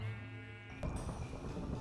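A sheep in the Minecraft video game lets out a single close, clear bleat that trails off into quieter background noise.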